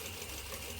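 A sewing machine runs steadily while stitching a bar tack on a pair of pants, a continuous close mechanical whir with a low rhythmic hum and no pauses.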